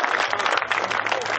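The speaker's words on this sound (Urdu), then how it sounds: "تالیوں سے استقبال کیجئے جناب فرقان آصف صاحب کا" Audience applause at an Urdu mushaira in Vesma, Gujarat, welcoming poet Furqan Asif Khan: a dense, steady wash of clapping from many hands that fills the whole moment without pause.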